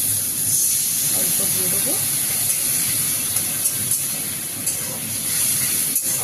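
Ginger, cumin and garlic paste sizzles in a pan with salted potatoes, a steady close hiss of frying running throughout while someone speaks briefly over it.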